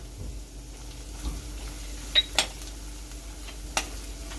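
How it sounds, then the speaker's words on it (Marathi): Dry ground spices (turmeric, coriander powder, chili powder and goda masala) are stirred in oil over low heat, giving a faint sizzle with a few sharp scraping clinks of a spoon against the pan. "हे मसाले सगळे बारीक गॅस करून परतून घ्यायचे।"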